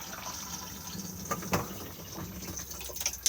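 Water running and splashing into the cassette toilet bowl of a 2021 Auto-Sleeper Fairford Plus motorhome as it flushes, quiet gurgling with a few sharper splashes near the microphone, no speech.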